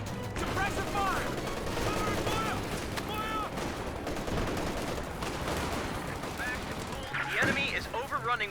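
Suppressive gunfire in the video game Company of Heroes 2: dense, continuous bursts of rifle and machine-gun fire with sharp cracks and distant booms, with battlefield voices heard faintly at moments throughout.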